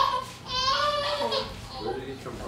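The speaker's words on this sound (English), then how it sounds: "There's a baby somewhere." A baby cries somewhere nearby with short wavering wails, partly masked by people talking loudly at the same moment.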